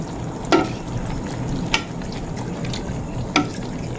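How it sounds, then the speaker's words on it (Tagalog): Coconut milk being stirred into cooking manala, giving a steady low sizzle with three sharp scraping clinks of a utensil spaced about a second apart, close and alone without talk. "Tapos po yung unang gata ilalagay na rin po."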